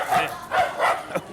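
A dog barks three or four times in quick succession, fairly close, with a slightly muffled, woofy tone.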